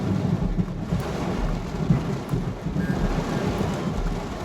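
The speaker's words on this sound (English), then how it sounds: "Lightning just went over my head." Thunder rumbles low and steady beneath rain falling outdoors in Alabama during a storm, a continuous rolling roar with no voices.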